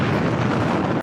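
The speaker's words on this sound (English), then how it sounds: "A huge explosion." A huge explosion in reused Baywatch footage, a sustained, loud broadband roar with deep rumble that fills the whole second before cutting off abruptly.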